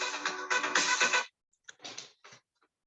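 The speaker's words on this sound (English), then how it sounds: "That's my Israeli phone." An Israeli mobile phone rings with a loud, bright ringtone that plays for about a second, stops abruptly, then gives a few shorter fragments before going quiet. No voices are heard.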